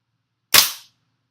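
A single sharp report from a WE Apache MP5 gas blowback airsoft gun, loud and close, with a short tail fading out within a fraction of a second and silence on either side.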